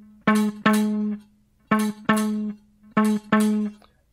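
Six bass guitar notes on the C sharp string at the 19th fret, played in three pairs of two, each with a clear attack and a sustained ringing tone, alone with no talking.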